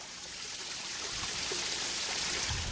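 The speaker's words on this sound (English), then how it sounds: "what we have here is a storm drain. Take a listen to this." Rainwater from Hurricane Irma pours into a storm drain in the Tampa Bay area, a steady, close, broadband rush and gurgle with no voices over it.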